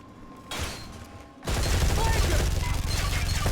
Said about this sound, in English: There's blind fire as well